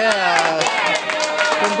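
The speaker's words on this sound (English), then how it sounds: "As the crowd goes wild here" A crowd at a bowling championship cheers and claps, with a voice talking over the noise throughout.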